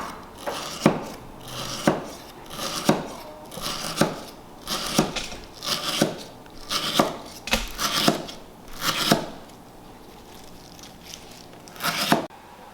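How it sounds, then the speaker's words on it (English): A knife slicing lemongrass stalks while preparing Cambodian fish amok, crisp chopping cuts about once a second, close and steady, with a dry fibrous crunch on each stroke. "I'm going to show you how to slice lemongrass."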